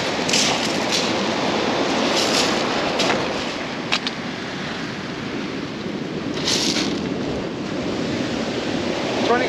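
Steady broadband rush of sea waves breaking on a shore, loud and continuous, with gusty wind buffeting the microphone and a few sharp knocks mixed in.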